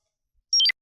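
A short electronic timer beep of two or three quick tones sounds once, close and clear, after a brief silence as a five-minute countdown starts.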